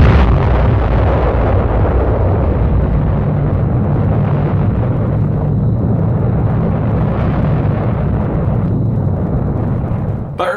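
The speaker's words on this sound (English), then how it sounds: "18 miles behind ground zero, still near enough for a close-up view of the explosion" Atomic bomb test blast on archival film, viewed from 18 miles behind ground zero at dawn: a loud, sustained roaring rumble with dense low-end energy that holds steady for about ten seconds before cutting off.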